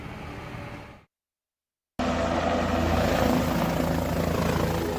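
A helicopter on the Kedarnath pilgrimage route gives off a loud, steady rotor and engine roar, broken by about a second of silence before it comes back at full strength.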